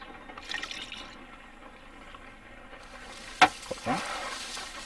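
Liquid poured onto a carnivorous plant in the Sherlock Holmes Crimes & Punishments game: a sharp click, then a short, soft splashing pour over quiet ambience.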